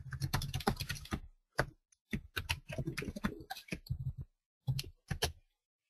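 Typing on a computer keyboard: a close, dry clatter of rapid key taps in bursts, separated by short pauses, with a few isolated single strokes toward the end.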